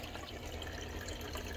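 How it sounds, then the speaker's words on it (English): A reef tank's protein skimmer, unused for years and still breaking in, returns a steady stream of bubbles, producing a continuous close-up fizzing and gurgling water rush with no pauses or talking. "it is returning a lot of bubbles, but the skimmer hasn't been used in years"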